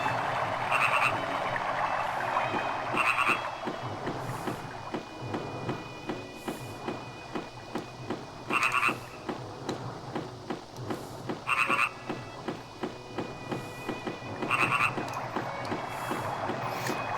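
Frogs croak in the Sega Saturn role-playing game Grandia over a rainy backdrop, loud rhythmic croaks repeating every few seconds with quicker softer pulses between them, game audio alone without talking.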